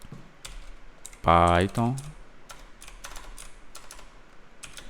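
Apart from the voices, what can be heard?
typing a command on a computer keyboard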